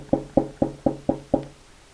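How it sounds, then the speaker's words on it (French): Six evenly spaced knocks rap on the door of a small house, close and distinct, each a sharp hollow thud, with no voices over them. "Le petit poussé frappa à la porte de la petite maison."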